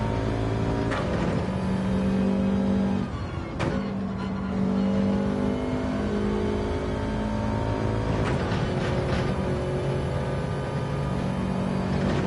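A race car engine in Gran Turismo 7 holding a loud, steady drone, its pitch dropping and rising as the throttle lifts and comes back on around corners, with no talk.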